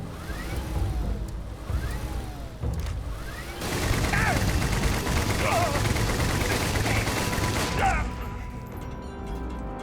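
Heavy gunfire from a big weapon in the space RPG Starfield, loud bursts of shots and impacts that thicken into sustained fire mid-clip before cutting off, with game effects and combat noise layered around them.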